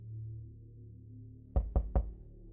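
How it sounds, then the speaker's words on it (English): Three sharp knocks on a door during a rainy night, quick and evenly spaced, standing out over a soft steady low background hum. "there was a knock at the door."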